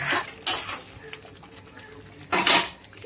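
Spoon stirring yogurt curry with chopped green chili and garam masala powder in a metal pan, giving a few scraping clinks and swishes at the start and again near the end, with quieter stirring between.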